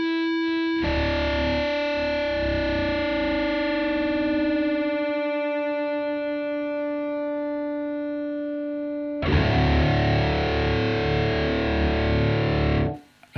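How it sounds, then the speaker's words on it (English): Guitar's low E string being tuned down to drop D through a distortion effect, a sustained droning chord with ringing harmonics whose pitch slowly shifts, then struck again loudly and held before cutting off. "now I'm gonna tune the low E string down to D. I'm trying to catch the D while letting ring those two harmonics"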